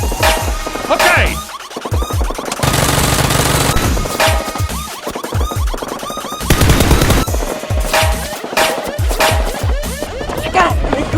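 Nerf guns fire in rapid rattling bursts during a staged fight against a criminal gang, loud and close, with short breaks between volleys and voices heard at moments.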